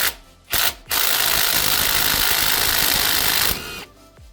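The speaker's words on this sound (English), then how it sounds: "we're going to use the rigid impact wrench there with a bunch of extensions and the 70mm socket" A Ridgid impact wrench on long extensions with a 70mm socket backs a transmission mount nut off a 2007 Toyota Sienna: two short bursts, then a sustained loud rattling hammer for about three seconds that stops abruptly.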